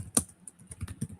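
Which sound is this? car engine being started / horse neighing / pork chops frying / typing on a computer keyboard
typing on a computer keyboard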